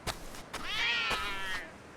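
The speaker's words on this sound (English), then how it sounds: "Cats." Cats meowing in the video game Like a Dragon: Ishin, with a single clear, drawn-out meow in the middle and softer short calls around it, close and fairly loud against quiet game ambience.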